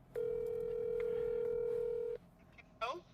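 A telephone tone rings in a single steady, loud two-second burst on a call from a health department nurse about a home vaccination. It ends, and a short voice follows.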